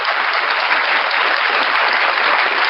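Applause sound effect played during a live stream, a steady, loud burst of clapping that holds evenly throughout with no gaps.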